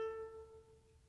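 One plucked ukulele note on the G string at the second fret sounds alone, bright at the attack and fading steadily over about a second.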